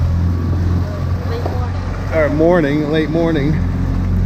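Steady low drone of a small outboard motor pushing a dinghy out of Port Canaveral on a windless Sunday, running continuously and close, with a person talking over it midway.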